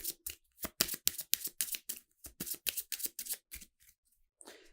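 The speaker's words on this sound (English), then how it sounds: "so we will reshuffle up" A deck of game cards is riffled and bridged during solo tabletop play, a rapid series of crisp close flutters in quick bursts, then a softer rustle as the deck settles.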